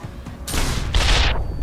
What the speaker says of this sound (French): On va passer dans son dos et lui foutre un coup de fusil dans le cul.